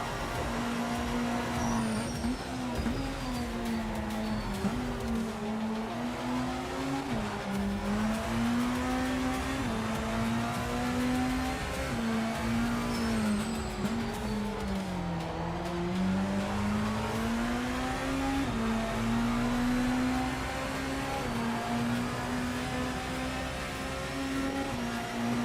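Race car engines in the sim racing game Le Mans Ultimate, a loud sustained engine drone that rises and falls in pitch through gear changes and corners, steady throughout.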